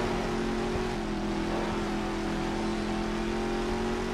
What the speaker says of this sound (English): This car still has a V8 motor